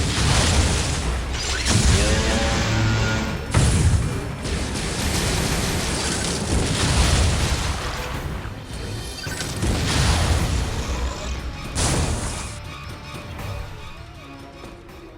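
Missile fire and heavy explosions from the Wii game Metroid Other M, loud booming blasts and crashing impacts rolling continuously with dense rumbling noise throughout.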